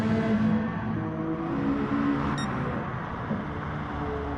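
Race cars on a Gran Turismo Sport circuit at Willow Springs, engines droning steadily and loud with harmonic whine, a brief high tone partway through, continuous throughout.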